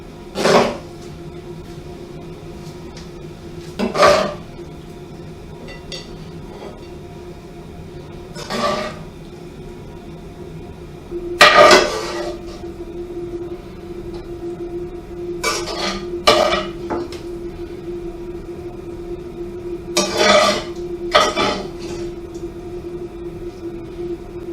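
A metal spoon scrapes and clinks against a pan as cooked mince is moved onto a plate, with sharp intermittent clatters every few seconds over a steady low hum, no talking.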